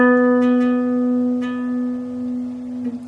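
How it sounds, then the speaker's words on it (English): A single electric guitar note picked once on the 9th fret of the D string and held with a gentle vibrato, ringing clearly and slowly fading, alone without talk. "you're going to pick that note one time, and you're going to play a vibrato with it"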